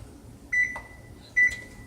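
Kitchen oven being set to 450 degrees for biscuits, two short electronic beeps spaced about a second apart, each followed by a soft button click, in a quiet room.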